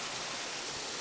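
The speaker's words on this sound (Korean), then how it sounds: "시원하게 물줄기가 폭포처럼 흘러내리고 있습니다" Water from a valley stream rushes steadily down a stone-built waterfall, a dense, continuous hiss with no pauses and no voices.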